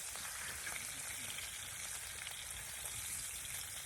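Bacon sizzles in a pan over a smoky wood fire, a steady close crackling hiss running unbroken from start to finish with no voices.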